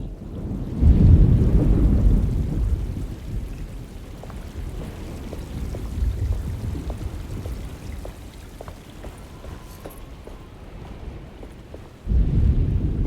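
A thunderstorm in the video game Alone in the Dark: steady pouring rain with deep, rolling thunder that swells loud at the start and again near the end, and no voices.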